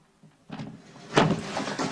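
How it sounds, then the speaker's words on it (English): A door is pulled open, with a muffled rattle of the latch or handle, then a louder sliding, scraping sweep, close by, with no voices. "Will you open the door?"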